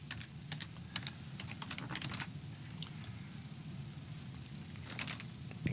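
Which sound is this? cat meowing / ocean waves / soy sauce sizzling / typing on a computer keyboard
typing on a computer keyboard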